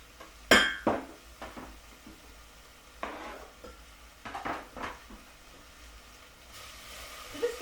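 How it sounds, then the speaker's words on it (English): Chopped garlic is scraped from a board into a pan for orzo and bean soup, with a sharp utensil clatter at first, then softer scrapes, clinks and a light sizzle. "So I can go ahead and scrape in all that lovely garlic."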